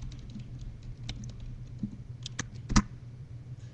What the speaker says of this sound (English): That's me typing, by the way.